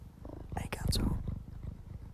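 A cat purrs close by with a soft, rumbling rhythm while a person speaks quietly over it.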